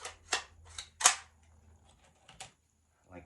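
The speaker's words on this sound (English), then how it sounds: "I have this brad nailer. It's just shooting a very" A brad nailer drives small half-inch 18 gauge brad nails into wood with a series of sharp, close snapping clicks, four quick shots early then a couple more, with a brief soft voice near the end.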